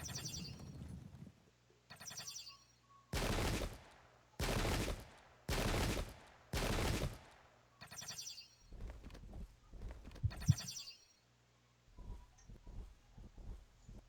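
Cannon and musket fire in the Pike and Shot strategy game sounds as a run of loud, rough volleys, several in quick succession and separated by short pauses, with scattered quieter crackles and ambient noise between them.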